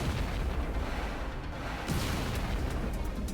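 Rapid weapon fire from a space-shooter video game, a dense continuous stream of low booming shots with brighter bursts near the end, steady and loud with no pauses.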